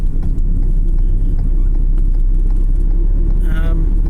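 A car on a road home with daylight still out produces a loud, steady engine drone and road rumble. The sound is close and continuous, and a voice speaks briefly near the end.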